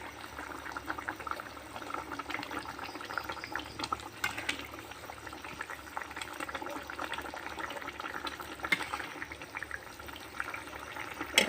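Eggplant and rohu fish curry simmers in a pot, giving a steady, close bubbling and sizzling wash with small irregular pops throughout and no voices.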